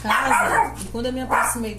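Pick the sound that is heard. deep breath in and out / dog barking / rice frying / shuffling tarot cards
dog barking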